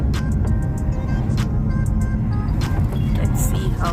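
A car on an afternoon drive along a road in Wales near Bristol, steady interior engine and road rumble with a voice talking over it.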